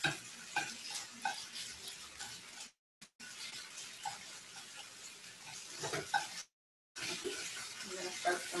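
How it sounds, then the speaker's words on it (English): Mushrooms and meat being stirred in a hot pan for Korean japchae, a steady scraping and sizzling clatter with brief gaps, close and moderately loud. "I'm just going to stir in for the last bit of the heat of the meat"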